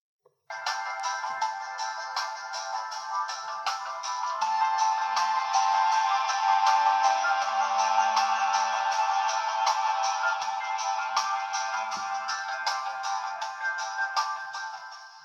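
Tinny, bright music plays from the built-in speakers of a Teclast Tbook 16S 2-in-1 tablet running Android, steady and fairly quiet with a thin sound and rhythmic clicks, starting abruptly and continuing without speech.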